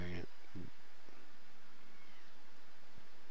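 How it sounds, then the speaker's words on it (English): A house cat meows twice in quick succession, short and close, followed by a quiet room. "So my cat's meowing."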